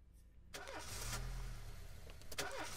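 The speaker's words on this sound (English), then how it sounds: "And not even our car is starting." In the This Is The Police video game, a car engine cranks and churns repeatedly without catching, a muffled, faint grinding with clicks and bursts of starter noise, no talking.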